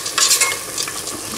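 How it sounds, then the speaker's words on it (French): Rice simmering in chicken broth in a pan is stirred at medium heat, a spoon scraping and swishing through it over a soft sizzle, close and without voices. "je laisse le tout cuire à feu moyen en remuant de temps en temps mon riz"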